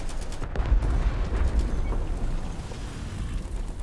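A dull rumbling impact as shrapnel strikes a tank in War Thunder, a close heavy boom fading into a rough low roar.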